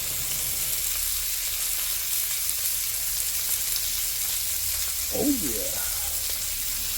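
Kansas City strip steaks sizzle in a pan, a steady close frying hiss running throughout, with a short spoken exclamation near the end.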